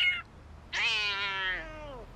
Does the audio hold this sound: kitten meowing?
yes